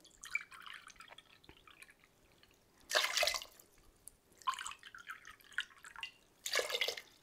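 Water poured into vinegar in a pan for cooking, heard as splashy pours in three bursts with trickling and dripping between them, close and fairly quiet.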